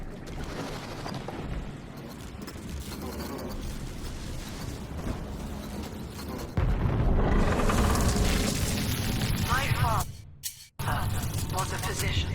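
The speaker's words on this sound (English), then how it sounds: "Mother's people are starting to detonate the charges." Heavy explosive charges detonating in the underwater city of BioShock 2, a dense rumbling roar that swells suddenly partway through into a louder, sustained blast wash, briefly cutting out near the end before resuming.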